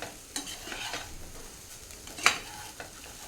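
Schezwan rice is stirred in a hot pan, with soft scraping strokes over a faint sizzle and one sharper clink of the utensil against the pan, close by and without speech.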